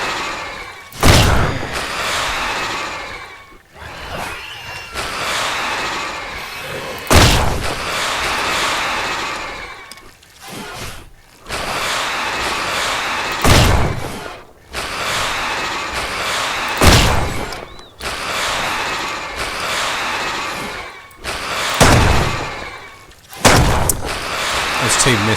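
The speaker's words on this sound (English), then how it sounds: "There's 2 missed shots." Heavy gunshots in the survival video game Mist Survival, a string of loud booming reports spaced a few seconds apart, each followed by a rumbling tail.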